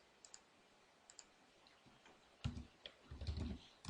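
Keystrokes on a computer keyboard while entering chamfer dimensions into a drawing program, a few light separate clicks and then a denser burst of close typing, with no talk.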